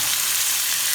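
Chuck steak frying in a hot pan, a steady, dense sizzle that holds at an even level throughout with no voices.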